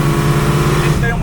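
A sports car engine roars loud and close under acceleration, a steady deep growl with strong low harmonics that shifts slightly at the end, and someone talking over it.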